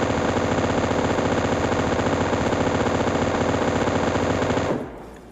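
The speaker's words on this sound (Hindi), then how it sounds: "तो भाई हम लोग M249 को साथ में चलाने की कोशिश किया, मतलब क्या साउंड आती है बस देखो यहाँ पे।" Two M249 light machine guns firing together in PUBG: a dense, unbroken, loud automatic burst that rattles steadily for about five seconds, then cuts off abruptly into a brief fading tail.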